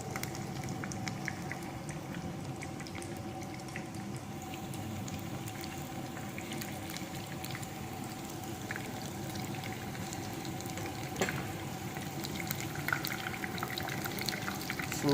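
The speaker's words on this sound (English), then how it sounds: "when you add the fish into the hot oil, so 1 or 2 minutes you can leave the fish into the hot oil" Battered fish for Fish Orly frying in hot oil, a steady dense sizzle and bubbling that holds at an even level throughout with a faint hum underneath, no talking.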